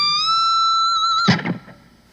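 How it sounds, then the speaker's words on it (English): A single high electric guitar note bent a whole step up from the 22nd fret of the high E string, with effects and distortion, sustains and rises before a brief scrape and fade. "this crazy high bend that is bending from the 22nd fret on the E string all the way up a whole step"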